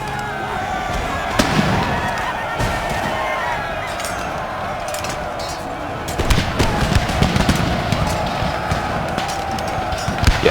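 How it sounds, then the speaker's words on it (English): Musket volleys and cannon fire from an Empire: Total War battle crackle and boom as a dense, continuous barrage of sharp overlapping reports, louder bursts toward the end, with faint talk underneath. "Well, God love them, they're still trying to fire on the infantry"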